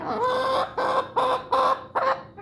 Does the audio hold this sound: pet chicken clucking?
yes